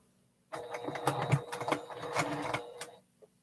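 A domestic sewing machine quilting, a close mechanical whirring chatter with fast rhythmic needle strokes that starts abruptly, runs steadily for a few seconds, then stops.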